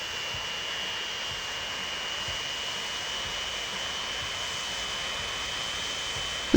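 Steady jet engine roar of a de Havilland Comet airliner on a slow landing approach in the game Transport Fever, a constant even drone with no talking.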